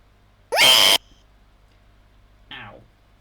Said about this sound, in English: I can just scream in the mic real quick.